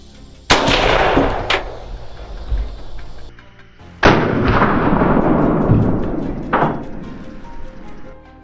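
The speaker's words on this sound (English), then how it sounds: "One deep breath, and I pulled the trigger." Two loud, sharp rifle shots fired at wild boar in open fields, each a sudden blast with a rumbling tail, a few seconds apart, with a fainter crack after each one.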